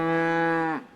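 A single cow gives one close, steady, tonal moo lasting under a second before trailing off, on a cattle farm where cows and heifers are being preg checked.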